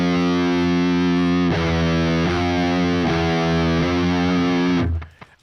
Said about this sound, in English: If we go up one fret, so one semitone, we get to the note F.